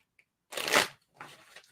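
A deck of tarot cards being shuffled up close, one loud riffling burst followed by a shorter, softer second pass, with no talking.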